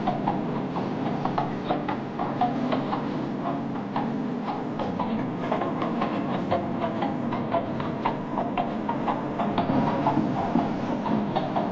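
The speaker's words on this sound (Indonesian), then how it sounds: "Roda-roda gerobak menggelinding perlahan." Wooden cart wheels roll slowly in a continuous, even rumble with faint irregular ticks and creaks, steady and unbroken throughout.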